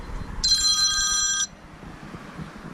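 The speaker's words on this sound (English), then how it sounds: "And there goes my phone call" A phone rings once with a bright electronic tone lasting about a second, fairly loud against a quiet room, then stops.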